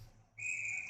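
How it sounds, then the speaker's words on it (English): A referee's whistle at a GTHL U16AAA ice hockey game, one clear sustained blast that starts suddenly and holds steady against quiet arena background. "And the whistle will go."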